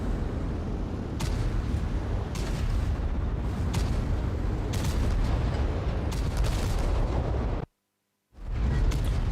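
Tank cannon fire and shell impacts in a World of Tanks Blitz clan wars match, repeated loud booms and blasts over a dense continuous rumble, broken by a brief silent gap near the end.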